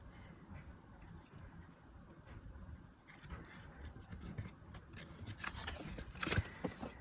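Scissors snip and trim a paper tent card, a run of crisp, close cuts that grow louder and more frequent toward the end, with faint rustling of paper in between and no talking.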